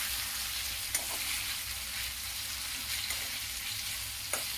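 Boneless chicken frying on a high flame makes a loud, continuous sizzle with a few light clicks and scrapes of stirring mixed in, and no talking.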